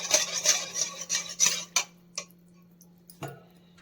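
A spoon clinks rhythmically against a bowl while semolina cake batter is mixed with curd, a run of quick close taps that slows and stops, followed by a couple of isolated knocks.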